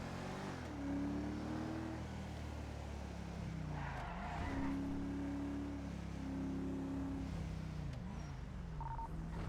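A car engine in the video game GTA 5 revving and rising in pitch as the vehicle speeds off, with tire squeals and engine notes shifting over a continuous hum, no talk.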